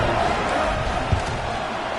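Dense football stadium crowd roaring steadily in celebration after a touchdown, a constant broad wash of cheering and noise with a brief thump near the middle.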